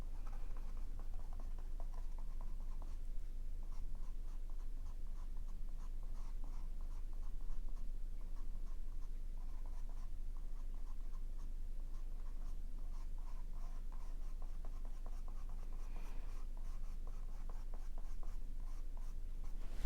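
Steady, close scratchy strokes of a brush working oil paint wet-into-wet on canvas, blending orange tones in an alla prima painting, continuing evenly for the whole stretch with no voices.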